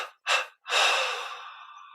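Two short inhalations followed by one long, slow exhale that gradually fades, close and clear in a quiet room during a guided meditation.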